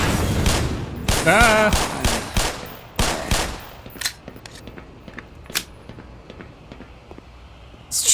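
Rapid bursts of gunfire from the video game Black Mesa crack out in a dense volley at the start, then thin to scattered single shots, while a player yelps briefly.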